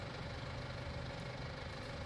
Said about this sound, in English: This is quite a smart tractor.